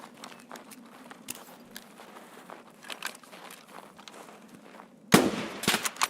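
Enemy gunfire in a video game, scattered sharp cracks and snaps over a low steady hum, with a louder burst of rapid shots near the end.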